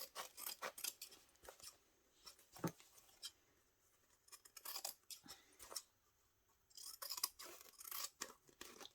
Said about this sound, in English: Now all I do is cut them both at the same time.